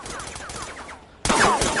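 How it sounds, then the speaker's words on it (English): Gunshots in the video game Roblox: a rapid run of automatic-style shots, then a brief lull and a louder, closer burst of firing at the end, with no talking. "Why are niggas shooting at us for no reason?"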